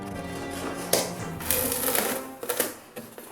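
A knife cutting plywood sheet to size, giving close, irregular tapping and scraping strokes with brief sharp bursts and no talk.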